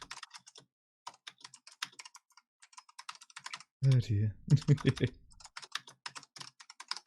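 Computer keyboard clicking runs almost throughout, quick irregular bursts of close, crisp keystrokes, briefly joined midway by a short spoken exclamation before the typing continues.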